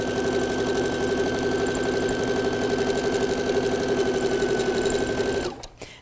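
A sewing machine stitches a quilt block in a rapid, steady mechanical whir at close range, running continuously for about five seconds before stopping abruptly.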